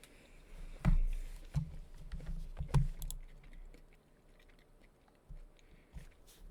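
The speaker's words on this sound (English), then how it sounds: "I've got lunch, which I'll take a bite of now" Someone bites into lunch and chews close to the microphone, with a few crisp crunchy bites followed by softer, quieter chewing over a faint background.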